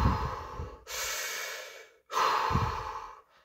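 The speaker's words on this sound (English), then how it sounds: "The Wim Hof breathing method. Do fucking breathing exercises." Deep rhythmic breaths in a Wim Hof method breathing exercise: two long, forceful breathing cycles, each a strong inhale and exhale. They sound close and loud, with sharp breaks between them.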